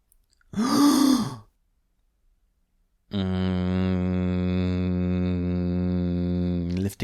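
One soft, breathy exhale through the nose with the mouth closed during a breathing exercise, followed after a pause by a long, steady hummed tone.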